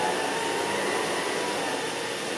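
An Electrolux Olympia One vacuum cleaner runs steadily indoors, a loud continuous motor whine and airflow rush, close and unbroken.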